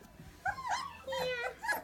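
Three-week-old Sheepadoodle puppy whimpering in short, high, wavering cries, several in a row, close by, with a person talking softly around them.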